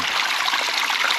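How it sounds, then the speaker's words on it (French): Water trickles and streams continuously into a brick and down a pipe in a dried-out riverbed, a close, steady splashy flow with no voices. "l'eau rentre dans cette brique et ensuite va dans le tuyau"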